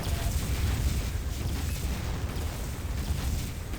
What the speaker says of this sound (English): JB getting taken out by the gen's explosion.